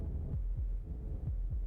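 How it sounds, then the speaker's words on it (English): Heartbeat from the video game Slay the Princess: low, muffled thumps in a steady paired rhythm, about five beats in under two seconds, heavy and close over a faint hum. "That was the sound of a heartbeat"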